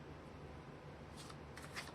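Tarot cards shuffled by hand, a soft, steady papery riffle with a few brighter flicks near the end, quiet and alone with no talking.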